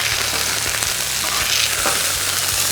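Medium-cooked burgers sizzle loudly on a hot cooking surface as they are flipped, a dense steady crackling hiss with a few soft scraping ticks from the turning, up close and without speech.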